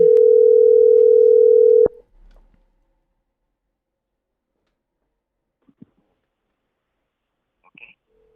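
A telephone dial tone hums steadily for about two seconds and cuts off abruptly when a call back is placed, followed by near silence with a few faint clicks.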